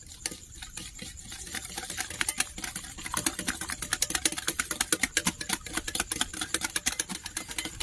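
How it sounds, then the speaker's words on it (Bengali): A hand whisk beats cake batter with sugar in a bowl, quick rhythmic clicking strokes that start slow and loose and build into a fast, steady, even tapping, with no talk. "এবার আমি একটি হ্যান্ড উইচ দিয়ে খুব সুন্দর করে মিক্স করে নেব।"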